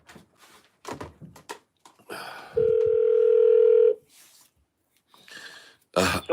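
An Alexa voice call rings out as one long, steady electronic tone lasting just over a second. Faint breathing and shuffling noises come before and after it.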